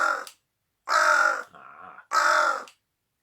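A pet crow named Erica caws indoors, three loud, harsh calls spaced about a second apart, with a softer guttural grunt between the second and third, close and alone with no talking.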